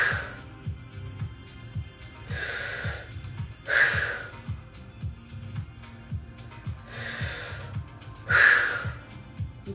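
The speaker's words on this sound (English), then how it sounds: "Let it go. 5 more breaths." Slow, deep breaths in a guided somatic breathwork session, with long airy inhales and exhales repeating at a steady unhurried pace, close and fairly loud over a soft low background.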